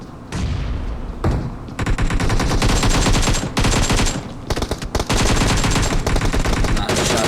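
Rapid automatic gunfire from a battle royale video game rattles in dense bursts with brief pauses, loud and close, sounding like sustained firefights across the whole stretch.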